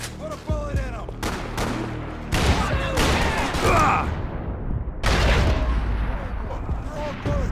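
Gunfire from the Max Payne 3 video game: several bursts and sharp shots ring out close and loud, mixed with shouting voices and chaotic action noise throughout.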